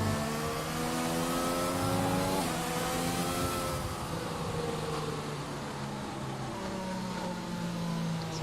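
Several race car engines drone and rev together in a video game racing series restart at the Australian GP, layered harmonic whines rising and dipping steadily and loudly throughout, with no talk.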